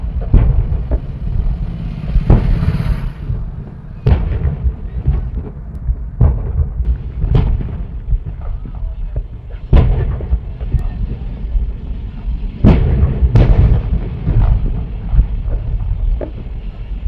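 LPG cylinders exploding on a highway near Jaipur after a chemical tanker struck a truck loaded with them: repeated sharp blasts and booms at irregular intervals over a constant roaring rumble of fire, heard from a distance.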